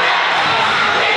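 The Uniontown crowd at a basketball game roars with loud, continuous cheering and whooping across the gym, a dense wall of voices filling the whole moment.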